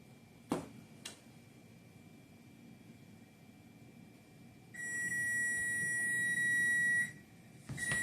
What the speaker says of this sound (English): Oops, sorry guys, I forgot to turn the timer off.